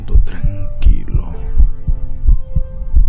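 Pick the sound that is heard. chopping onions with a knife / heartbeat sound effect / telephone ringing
heartbeat sound effect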